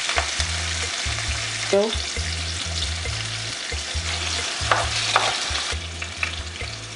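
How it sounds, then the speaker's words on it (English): Hot pepper red sauce for a Nigerian meal sizzles and crackles steadily in frying oil while being stirred, with scraping strokes and a brief exclaiming voice over the constant frying noise. "So now I'm gonna put that into this oil."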